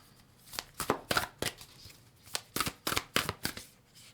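Tarot cards being shuffled in a series of crisp riffling bursts, close and fairly quiet, with short pauses between them and no talking.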